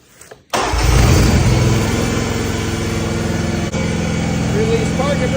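An Exmark 52-inch radius zero-turn mower engine cranks after a short quiet lead-in, catches and settles into a steady, loud running drone close by at half throttle.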